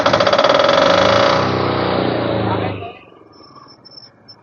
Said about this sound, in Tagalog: perfectly working na yung generator natin mga ka-Best Buys